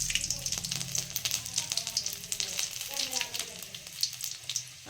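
Chopped garlic fries in hot oil, producing a soft crackling sizzle with scattered pops. It is fairly quiet and steady throughout, with a faint voice in the background.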